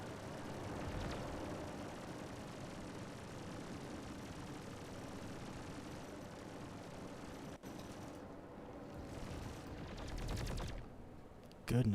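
Sustained rapid gunfire in the space combat game Star Citizen, a dense rattling barrage of ship weapons that runs throughout at moderate level, with a brief dropout and a louder burst near the end.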